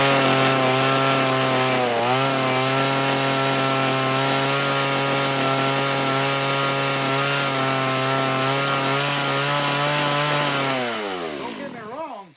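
A chainsaw bites into wood while carving a parrot sign, its loud, sustained whine holding steady pitch with a brief dip midway, then spinning down to idle and fading at the end.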